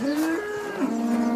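Cows in a palace garden let out a drawn-out moo that bends in pitch, then a second lower moo, loud and close with nothing else behind them.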